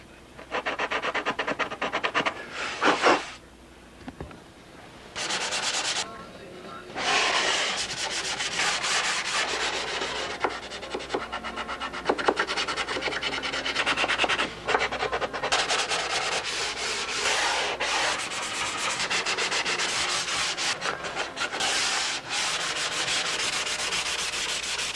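A sanding block is rubbed along the edges of a wooden piece in repeated rasping strokes, broken by a few short pauses, steady and close with no talking.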